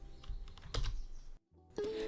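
Keys clicking on a computer keyboard while working in Photoshop, a few sharp close taps in quick succession with a brief silent gap, then a faint tone.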